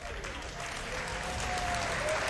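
Crowd at a StarCraft esports tournament in Rotterdam applauding and cheering, a dense steady wash of clapping that swells slightly louder toward the end.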